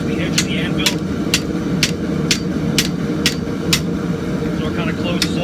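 A blacksmith hammers a scrap-steel Viking axe eye over the anvil edge, striking eight or nine sharp, evenly spaced metallic blows close by over a steady roaring forge hum, with a few lighter taps at the end.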